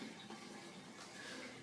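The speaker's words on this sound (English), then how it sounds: "So now you can see that the water is just finishing draining up." Water in a 29-gallon aquarium gurgles and trickles steadily as it drains through an overflow siphon, a faint continuous watery rush.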